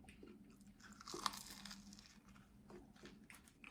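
Someone bites into a crunchy, golden-baked Karaköy poğaça pastry, producing a few faint, crisp crackles and crumbly crunches up close in a quiet room.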